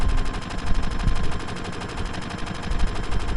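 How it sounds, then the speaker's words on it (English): Rapid gunfire in Final Fantasy 7, a dense burst of shots rattling continuously for a few seconds at close, loud level with no talk over it. "And as she grabs the gun, bang."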